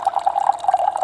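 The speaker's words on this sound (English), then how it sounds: "it's got this little tap on it. If I press it right, or maybe double tap" Water runs steadily from the small press-button tap of a portable camping shower, a continuous trickling stream with a light bubbling flutter, close and moderately loud, with no talking.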